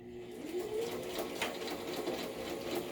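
A sewing machine runs a zigzag stitch while sewing a pocket envelope, giving a steady, close, continuous mechanical whir with a fast, even stitching rhythm and no break.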